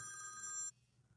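A telephone bell rings in a short electronic burst on a call-in radio show, then cuts off abruptly, leaving a quiet low hum.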